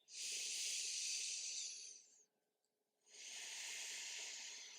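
Soft breathing during a hatha yoga flow, two long airy breaths, one out and then another after a short silent pause, close and hissing with no talking.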